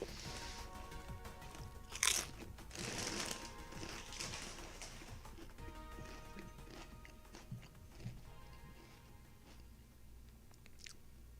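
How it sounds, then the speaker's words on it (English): Crunchy chips being chewed close to the mic, a loud bite early followed by repeated crackling crunches that slowly thin out, with no talking. "Good crunch on those chips"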